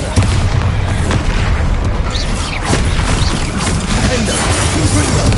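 Rapid spell explosions in the video game Hogwarts Legacy, a dense, loud barrage of booms, crashes and bursts overlapping continuously for several seconds.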